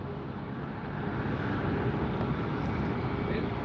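Large airplanes at LAX airport produce a continuous, broad engine rumble and roar that swells slightly, heard from nearby with outdoor wind over the microphone.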